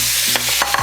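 Pork belly frying in a pan as it renders its fat, a close, steady sizzle broken by brief scraping stirs, with no voices.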